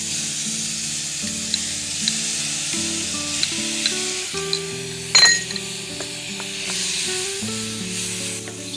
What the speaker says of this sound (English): So those getting sauteed.